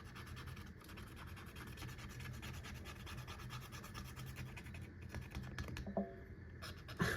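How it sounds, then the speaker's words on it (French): Scratch-off spot on a savings challenge card rubbed with a coin or fingernail, giving a steady close-up rasping scrape that runs continuously over a low background hum. "Encore une pastille à gratter."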